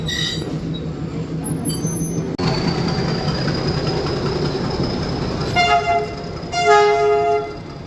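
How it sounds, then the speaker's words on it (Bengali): A train pulls out of Wellington station toward Coonoor on a hill railway, with a continuous low rumble of wheels and carriages and a long high squeal, followed by repeated horn toots near the end. "ওয়েলিংটন স্টেশন ছেড়ে যাচ্ছি আমরা আমাদের গন্তব্যের উদ্দেশ্যে।"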